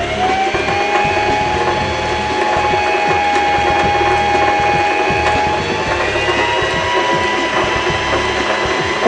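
A sewing machine's bobbin winder spins, winding thread onto a spool with a continuous close mechanical whir and faint ticking that holds steady throughout.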